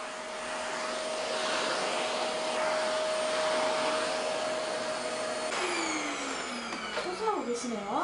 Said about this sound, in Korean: 형 태희 씨는 청소기를 들고